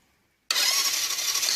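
A Sinnis 125 motorbike engine cranks over with its spark plug removed, a steady, loud, airy churning that starts abruptly after a brief silence and continues without firing.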